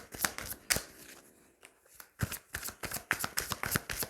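Tarot cards shuffled and handled in repeated quick riffling bursts, crisp papery flutters and snaps close by with a short pause midway, no talking.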